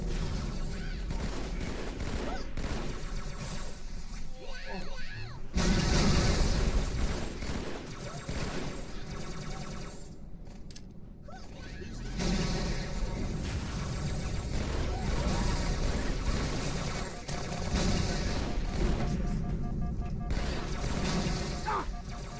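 Gunfire in Halo 2, a dense steady barrage of shots with bursts and crashes running throughout, loud and continuous, with voices talking over the battle.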